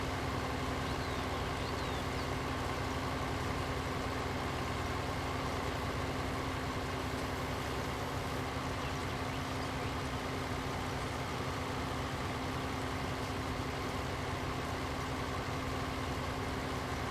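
A small tractor engine idles in a farming video game, holding a steady, even low drone with no change in pitch for the whole stretch and no talking over it.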